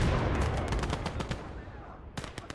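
StG assault rifles fire in the World War II strategy game Gates of Hell: Ostfront, loud rapid sharp cracks crowding together in a dense fusillade, thinning briefly before a fresh cluster of shots near the end.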